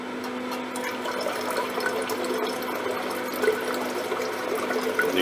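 Sodium metabisulfite added slowly to a liquid during gold recovery sets off a steady, continuous fizzing and bubbling that stays even and moderately loud, with no voices.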